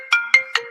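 A phone ringtone sounds for an incoming call, three short bright bursts of a repeating melodic chirp about a fifth of a second apart, near and clear with no talking.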